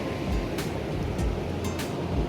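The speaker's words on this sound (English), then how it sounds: "I don't know if you can hear me over the double overhead waves that are going on out there" Large double-overhead ocean waves break and wash at Polihale Beach on Kauai, a loud continuous roar of surf with rumbling surges and gusts of wind buffeting the microphone.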